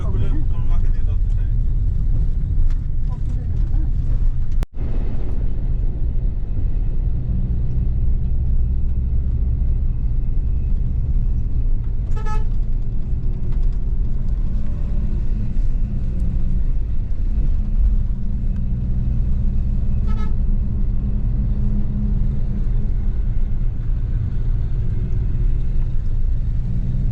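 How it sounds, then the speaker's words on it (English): Steady loud engine rumble and road noise fill the inside of a moving bus travelling from Dhaka to Cox's Bazar, continuous throughout with a single sharp knock and faint voices in the background. "still inside the bus, crossing Kumilla"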